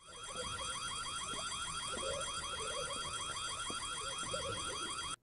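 An insistent electronic alarm rings in the horror video game White Day: A Labyrinth Named School, a steady warbling tone repeating rapidly and continuously at even volume, with faint clicks and shuffles underneath until it cuts off.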